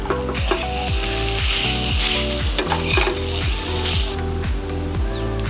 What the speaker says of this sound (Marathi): आता आपण उकळून घेतलेले बटाटे घालून घेऊया.